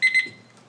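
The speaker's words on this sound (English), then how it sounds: "that's my timer" Two quick, loud electronic beeps from a timer alarm sound close by during a township board of trustees meeting, then fade into room quiet.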